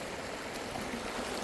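River water flows in a steady, broad rush, close and continuous with no pauses or voices.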